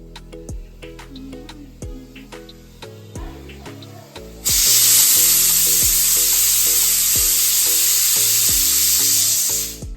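Loud, steady sizzling of onions, tomatoes and green chilies frying in hot oil in a pan, starting abruptly partway through after quieter clinking and tapping; no voices.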